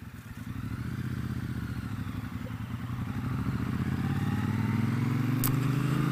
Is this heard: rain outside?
no